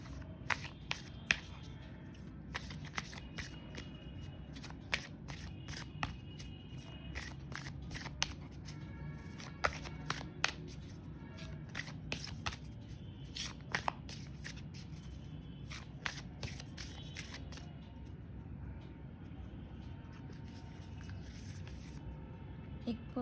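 Tarot cards shuffled and pulled from a deck, with continuous riffling and sharp snapping flicks of the cards throughout, close and fairly quiet over a soft steady background.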